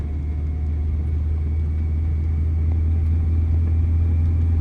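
Car engine droning steadily on a highway as a learner driver picks up speed in the left lane, a continuous low rumble with road noise and no talk.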